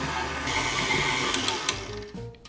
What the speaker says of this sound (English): now we're just gonna let our stand mixer sit here and do the kneading